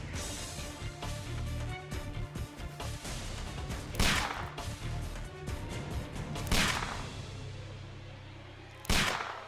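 Gunfire in the video game Sherlock Holmes: The Devil's Daughter, with three loud sharp shots standing out over a dense, continuous bed of game noise and rumble.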